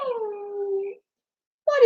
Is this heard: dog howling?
yes